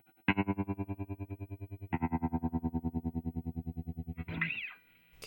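An instrument through a Condor Hi-Fi pedal set to tremolo gives sustained notes that throb in quick, even volume pulses, three held notes in a row, the last bending upward before fading out.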